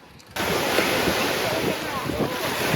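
Ocean surf rolling onto a beach on the Massachusetts coast, a loud continuous wash of breaking waves with heavy wind noise buffeting the microphone, starting abruptly and filling the whole stretch.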